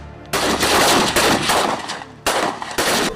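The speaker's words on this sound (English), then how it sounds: "the cadets participated in the inter-battalion shooting competition at the Nigerian Defense Academy Shooting Range" Sustained bursts of rapid rifle fire from cadets at an inter-battalion shooting competition on the Nigerian Defence Academy range, loud and dense, with a short break before a second volley.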